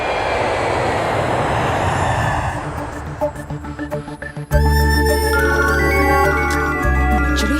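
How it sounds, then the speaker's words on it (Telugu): A loud jet engine roars and rumbles as an aircraft lands, then shifts abruptly to a steady whining drone with tonal hum on the runway. "ఫ్లైట్ ఇప్పుడే ల్యాండ్ అయింది సార్"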